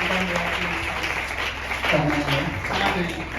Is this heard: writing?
no